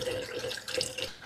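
Water being poured to refill the coolant system of a 50-year-old Volvo 164e, a close, faint splashing trickle with uneven gurgles and small bright drips.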